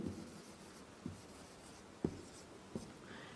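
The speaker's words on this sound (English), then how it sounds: "You write it in one continuous flow in between the lines." Hebrew letter Gimel being written by hand between lines, a faint pen scratching softly across paper with a few small taps as strokes begin.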